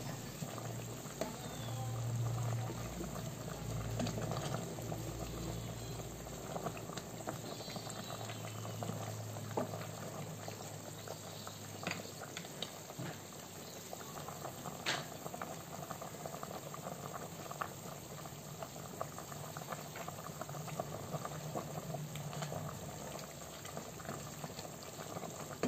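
Chicken tinola with papaya and lemongrass boils in a pot, a soft, steady bubbling that runs unbroken at low volume.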